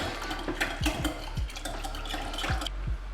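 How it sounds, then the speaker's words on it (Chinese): A matcha powder mixture poured into milk and corn oil in a bowl, giving a wet, sloshing liquid pour with a few soft clinks and knocks against the container. "将拌好的绿茶粉倒入牛奶、玉米油中"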